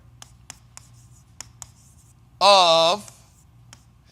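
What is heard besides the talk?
writing words down by hand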